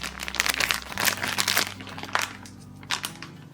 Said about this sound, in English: I'm gonna take a Ziploc bag and I'm gonna just put all this in it